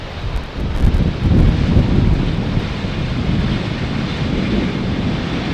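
Gusty southwest wind blows across Amsterdam Schiphol airport near runway 18R, rumbling hard against the microphone in a loud, continuous low buffeting with no voices.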